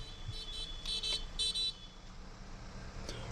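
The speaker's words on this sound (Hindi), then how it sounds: "सो हम ट्रैफिक जैम में खड़े हैं, यहाँ पे काफ़ी लंबा ट्रैफिक जैम है" Cars stand in a long traffic jam on a mountain road during a holiday weekend, with a few short horn toots sounding in a quick cluster over a quiet, low rumble of idling traffic.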